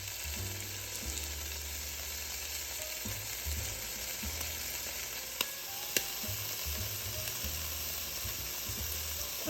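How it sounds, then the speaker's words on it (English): Ham fries in a pan over medium-high heat with a quiet, continuous sizzle and crackle, broken by a couple of sharp clicks and some low background rumble. "I've got it on medium high because I really want it to brown on both sides."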